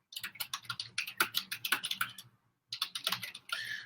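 Notes typed on a computer keyboard: a quick, close run of crisp key clicks, a brief pause, then another short burst of typing.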